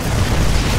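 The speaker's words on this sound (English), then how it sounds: "I end up tearing apart both of these photon cannons" Photon cannons blowing apart in a StarCraft 2 2v2 match, a dense, continuous explosive rumble with low booming weight that holds loud and steady for under a second.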